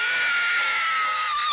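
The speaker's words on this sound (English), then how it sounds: "when I opened or closed the door to the generator shed and I screamed, that was a real serious scream" A woman's sustained, high-pitched scream of horror rings out loud and close, filling the whole moment without a break, from a scene in the slasher film Friday the 13th: The New Blood as she opens a generator shed door.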